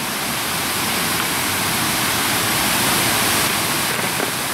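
A waterfall roars in a steady, dense wash of water noise that stays loud and even throughout, with no voices over it.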